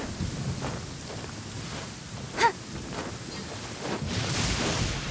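A heavy rain downpour in Genshin Impact, a steady dense rush of rainfall with a low rumbling undertone and one brief sharper crack midway, the hiss swelling louder toward the end.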